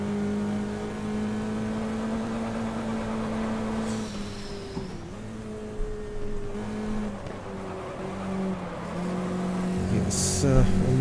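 A race car engine drones steadily and loudly mid-race, its pitch holding and dipping briefly as the driver shifts and lifts, then rising again near the end.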